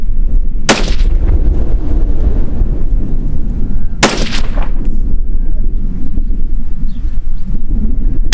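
Two sharp 6.5 Grendel rifle shots firing Barnes 127 grain LRX bullets outdoors, loud cracks about three seconds apart over a constant roar of wind noise.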